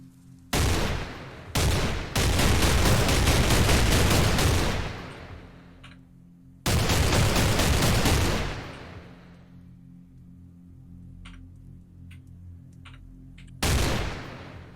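Battle rifle fire in the video game Cataclysm DDA: loud sustained bursts of rapid gunshots, a short burst, then a long volley and another, with quieter isolated clicks between and a final burst at the end.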